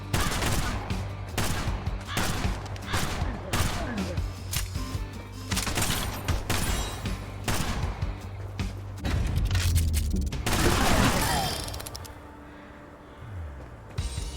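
Rapid bursts of gunfire from the video game Kill the Crows crackle in dense, repeated volleys, loud and close over a steady game soundtrack, easing off near the end.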